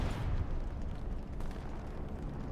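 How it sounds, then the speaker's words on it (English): Distant heavy explosions from a bombing run in the World War II shooter Hell Let Loose rumble through a dense, continuous low roar with no clear separate blasts. "I am unsure about this bombing run."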